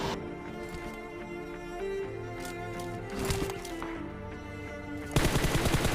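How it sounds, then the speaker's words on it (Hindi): Gunfire from an M24 bolt-action rifle at close range during a PUBG Mobile match. Sharp shots crack over constant game background noise, and a dense burst of rapid fire near the end overlaps it. "देखो गाइस कैसे क्लोज रेंज पे जाके M24 से कैसे पेलूंगा उसको"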